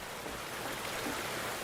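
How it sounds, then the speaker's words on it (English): Water runs from a tap in a steady, close hiss of broadband rushing, continuous and fairly loud throughout with no speech over it. "We turn the freaking water on."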